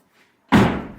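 A Toyota 4Runner door just refitted after a hinge pin repair swings shut with a single loud, close slam and a deep thud that fades quickly. No one speaks.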